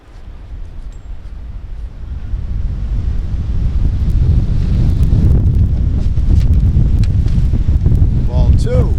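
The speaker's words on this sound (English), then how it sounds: "As the wind has just kicked up a little bit" Wind gusting across an outdoor baseball field during an Orioles versus Rays game, a steady low roaring rush that builds and stays loud throughout, with a voice faintly underneath.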